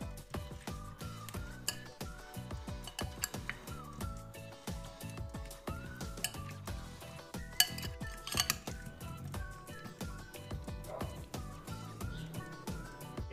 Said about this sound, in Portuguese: é só a gente agregar aqui e misturar tudo muito bem para distribuir nas nossas formas também